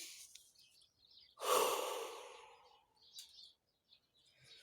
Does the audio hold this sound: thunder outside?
no